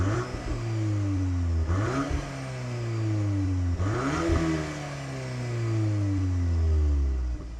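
A 2024 VW Golf R with a six-speed manual accelerates hard through the gears. The engine note climbs steadily, drops briefly at each shift and climbs again, loud and close, with no one talking.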